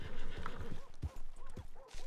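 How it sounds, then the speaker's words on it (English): A group of horses in Red Dead Redemption 2 neighing and whinnying repeatedly with hooves clip-clopping, close and fairly loud, while a voice talks underneath. "We'll go around this muddle of horses that are here as well."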